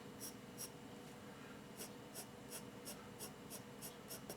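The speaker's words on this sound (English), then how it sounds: "I'm going to take my 6B pencil, for example here, and I'm going to start drawing from the root of the hair here" A 6B pencil draws hair strokes on paper: about a dozen quick scratchy swishes in a steady rhythm, close and soft, with short pauses between the strokes.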